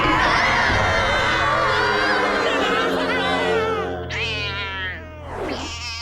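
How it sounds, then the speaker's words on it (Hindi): A giant cartoon cat lets out a long, loud, drawn-out meow, followed by a couple of shorter, rising yowls near the end. "एक जायंट बिल्ली की आवाज"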